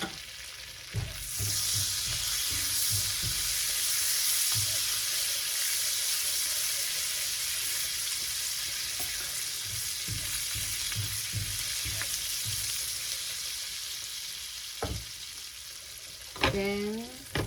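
Garlic sizzles loudly and continuously with rib eye steak and rosemary in a new pan, a steady frying hiss with occasional clinks and scrapes of utensils.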